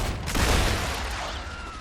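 Spider creatures bursting apart in Star Rupture: a loud, dense crackle of blasts mixed with gunfire, one sharp burst followed by a sustained noisy roar that fades slightly over under two seconds.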